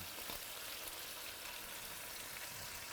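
Peppers and Kalamata olives hitting a pan of hot oil with anchovy and garlic, a dense, even sizzle that crackles steadily and loudly the whole time.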